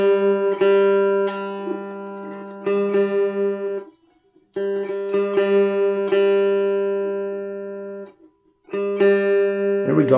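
A guitar's G string, and the neighbouring string tuned against it, is plucked in repeated bursts, each ringing note sustaining and decaying before a brief silence and the next pluck, clear and close with a steady tonal sound.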